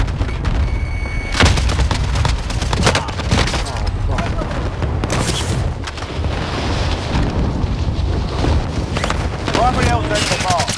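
Gunfire erupts in a Call of Duty Warzone match, loud rapid bursts from an M60 mixed with explosions and game radio chatter, dense and continuous throughout.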